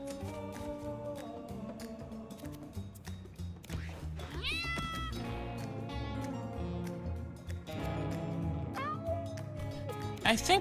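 Cartoon cats meowing repeatedly in the game Mewgenics, several rising and falling mews scattered over game music and a person talking.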